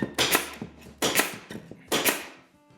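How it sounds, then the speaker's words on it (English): Pneumatic nail gun driving nails along the back corner of a cabinet, four sharp close snaps at roughly half-second to one-second intervals, each with a brief ringing tail. "run the tip of the nail gun right up into the corner"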